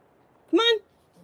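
A single short, sharp dog bark sounds close by against an otherwise quiet background.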